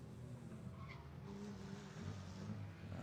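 Rally car number 112 pulls away from the start line on a Harlech forest stage, a steady engine drone with faint tyre scrabble, fairly distant and continuous throughout.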